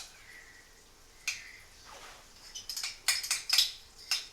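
Yogurt being folded into chickpea curry in a pan just taken off the heat, heard as soft scraping with a series of light clinks and taps of a spoon against the pan that grow more frequent toward the end, close and fairly quiet.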